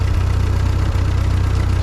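An old Ford 9N or 2N tractor engine idles on a farm field, a steady low chugging putter that stays even and close throughout, with no talking.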